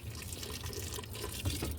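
A quiet, steady pour of hot water runs over the bolts of a Maytag washer under repair, with soft trickling and a few drips.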